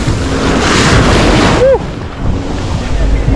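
Rough, choppy sea surf pounding a beach in Jamaica, a loud continuous roar of breaking waves with wind buffeting the microphone and a brief squeal partway through.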